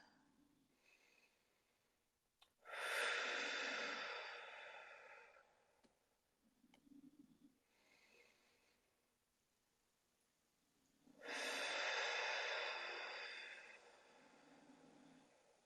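Slow deep breaths in and out, two long loud breathy exhalations spaced several seconds apart with quieter inhalations between, close and clear during a guided breathing exercise.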